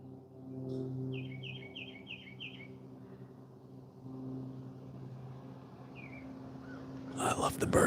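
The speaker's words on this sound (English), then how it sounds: "I love the birds. I love them." Birds chirp outdoors: a quick run of bright tweets rings out, then a single later call, fairly faint over a low background hum, with a person's voice nearby.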